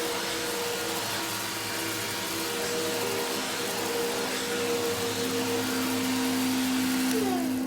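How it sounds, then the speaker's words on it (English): A vacuum cleaner runs steadily, hoovering up leftover cremation ashes from the floor, its motor drone loud and continuous with a constant whine throughout and no voices. "The first thing she did was hoover up the rest of Grandpa Joe's ashes."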